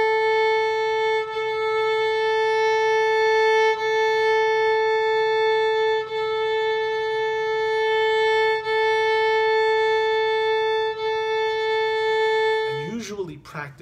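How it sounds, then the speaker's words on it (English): Sustained violin notes bowed détaché on the A string, steady separate strokes on one repeated pitch, clear and close, with a brief voice breaking in at the very end. "a detaché stroke on the A string"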